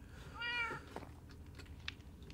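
A single short cat meow in the Minecraft 1.19 game, fairly clear and close, followed by quiet ambient game sounds.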